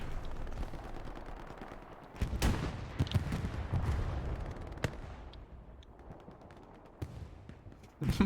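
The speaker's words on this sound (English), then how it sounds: "Firing a shot at his own tank." A tank cannon shot in a video game booms out, with several sharp blasts spread across a steady battlefield rumble, moderately loud and without talk.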